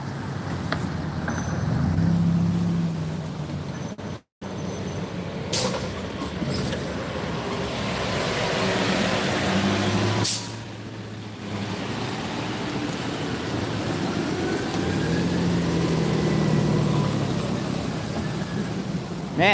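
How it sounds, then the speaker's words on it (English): Steady street traffic with passing trucks and cars rumbles continuously nearby, swelling and fading as vehicles go by, with a brief dropout partway through; no distinct air-brake hiss stands out. "Man, it's traffic around here."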